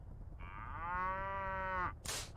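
A cow moos once in the video game Mass Effect, one long, loud, drawn-out low call lasting over a second, followed by a brief burst of noisy hiss.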